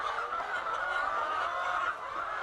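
Chickens on a poultry farm cluck and chatter continuously in a dense, steady flock chorus close by, with no voices over it.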